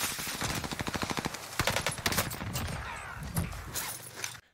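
Automatic gunfire in the shooter game Warzone rattles in rapid bursts, with sharp repeated shots and a few heavier single reports, fairly loud and dense over a low game background.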